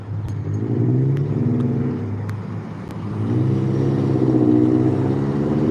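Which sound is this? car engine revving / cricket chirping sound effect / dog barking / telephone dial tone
car engine revving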